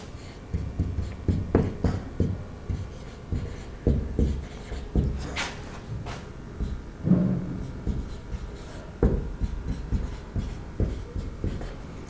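A teacher writes chemistry examples on a board, with a run of close, rhythmic scratching strokes and taps that come in bursts with short pauses between them.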